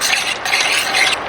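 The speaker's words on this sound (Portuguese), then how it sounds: "A cada adição de caldo a gente mistura super bem." Risotto being stirred in a pan as broth is added, a steady close scraping and wet swishing with a soft sizzle underneath, continuous and without pause.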